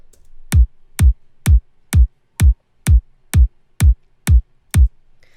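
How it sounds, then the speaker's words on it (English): A punchy electronic house music kick drum in F minor hitting ten times in a steady, even four-on-the-floor rhythm, deep and booming, with nothing else playing. "so the kick sounds like this"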